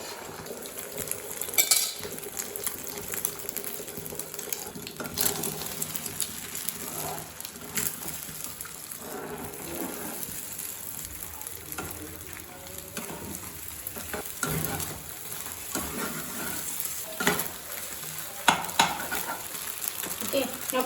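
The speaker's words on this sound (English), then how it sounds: "Now add the egg mixture." An egg mixture fries in super hot oil for avakaya egg fried rice, a continuous sizzle with frequent utensil scrapes and clinks against the pan, and no voices.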